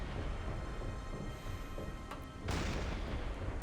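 Naval gunfire in the submarine game Silent Hunter 5, low rumbling booms over a heavy continuous background, with a sharper blast arriving midway and another near the end, fairly quiet overall.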